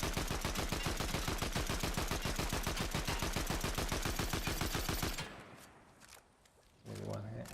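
Rapid automatic gunfire in a video game rattles out in a long, even burst of regular shots for about five seconds, then stops, followed by scattered quieter game sounds.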